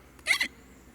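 A voice imitates a single quick hiccup, a short pitched gulp that rises and falls in about a quarter second, close and alone against a quiet background.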